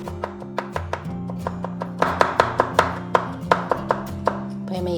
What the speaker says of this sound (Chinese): 削以后我们对半切，然后切薄片。 接着我们再改刀切丝。